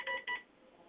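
Two short telephone dialing tones beep in quick succession at moderate volume, followed by a faint hum of room noise in a hearing room.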